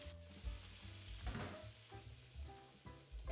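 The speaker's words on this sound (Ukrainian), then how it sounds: "Бочок смажиться відпускає потихеньку жир." Steady sizzling and crackling of smoked pork belly frying in a pan and releasing fat, with small pops and faint clinks of utensils, no voices.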